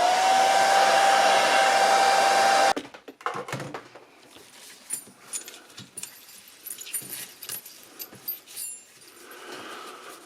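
Hair dryer on low setting blowing out a Singer 306K sewing machine, a loud steady whoosh for nearly three seconds that cuts off, followed by scattered clinks, rattles and handling noises of small parts.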